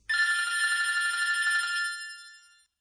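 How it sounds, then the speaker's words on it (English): A landline telephone in an apartment rings once with a bright, warbling electronic trill lasting about two seconds, then fades out in an otherwise silent room. "Just then, the landline rings."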